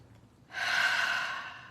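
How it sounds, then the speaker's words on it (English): A single deep, close inhale, taken slowly during guided meditation, swells over about a second and heard alone. "if we could just take some breaths"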